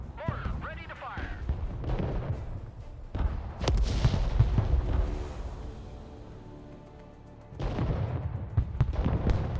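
Artillery fire in the war game Broken Arrow: booming blasts and rumbling impacts come in bursts, with radio chatter and voices talking over the battle din.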